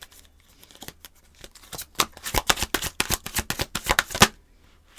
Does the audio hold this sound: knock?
no